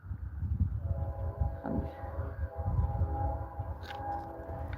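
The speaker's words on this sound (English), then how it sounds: "And they're all stacked trains." A stacked freight train rolls past close by, a steady low rumble with faint metallic squeals and clanks running through the whole stretch.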